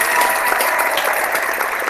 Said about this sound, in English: so I'm going to give you a clap.